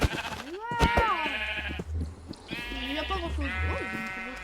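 Sheep in a pink biome from a Minecraft mod let out several loud, wavering bleats, close and overlapping, while someone talks quietly between them.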